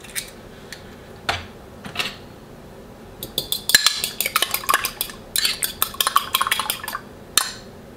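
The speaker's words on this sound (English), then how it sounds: "So we'll give it a good mix." Egg is mixed into sticky bun dough in a bowl with a utensil, starting with a few isolated knocks and building into a quick run of rhythmic clinks and scrapes against the bowl, close and moderately loud.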